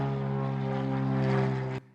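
A propeller airplane drones overhead, a loud, steady engine hum with strong tonal harmonics that holds for nearly two seconds, then cuts off abruptly to a faint residual rumble.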